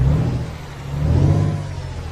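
Volvo NH12 truck engine in Euro Truck Simulator 2, a steady low droning rumble that swells slightly as if revving, continuous and fairly loud with no talk.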